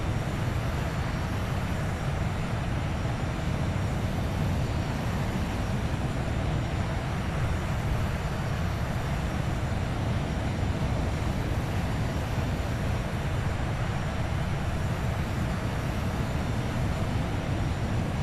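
Avro Vulcan jet engines in Microsoft Flight Simulator 2020 give a continuous, even rumbling roar during a landing approach. The broad drone holds steady for the whole stretch, with no talking.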